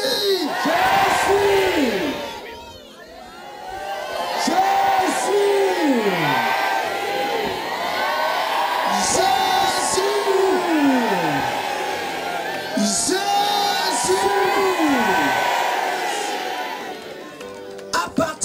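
A large crowd at a Christian crusade gathering in Benin shouts the name Jésus three times in loud, rising-and-falling collective cries, each roaring chant followed by a brief swell of cheering and chatter.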